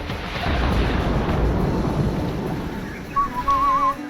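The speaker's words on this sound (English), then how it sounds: "I don't need to launch that many torpedoes at a single mine" Rumbling underwater torpedo launches and blasts at a mine in the video game SteamWorld Heist II, a heavy low roar fading out, followed by a wavering whistle-like game tone.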